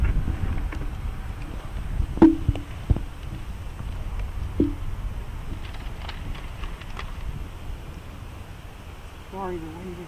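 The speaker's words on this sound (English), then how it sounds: "the wind is a little funky today" Wind gusts buffet the microphone at an outdoor memorial service, a low rumbling roar that rises and falls under people talking nearby.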